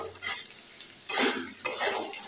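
Chilies and onions fry in a pan as leafy greens are added, giving a steady sizzle with two louder hissing surges and faint stirring clinks.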